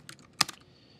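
A computer keyboard being typed on, a short burst of a few quick key clicks, one sharper tap in the middle, close and quiet.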